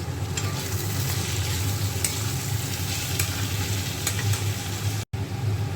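Chopped spring onion leaves fry and get stirred in a hot pan, a steady loud sizzle with scraping that runs on without pause except for one momentary cut near the end.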